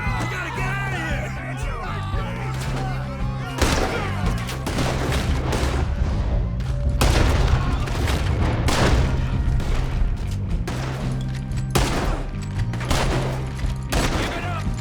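Repeated gunfire in the video game Red Dead Redemption 2: loud sharp shots and booming blasts fire in irregular bursts over a low rumbling music bed throughout, with shouted voices mixed in.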